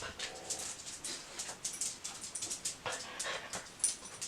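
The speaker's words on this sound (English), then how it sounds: "The dog." A dog whimpering and panting close by, with repeated soft high whines and breathy pants in an uneven rhythm, fairly quiet and without talk.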